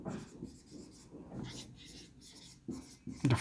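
Pen scratching on paper in short strokes while writing a chemistry answer about sodium carbonate, soft and close, with quiet pauses between bursts of writing.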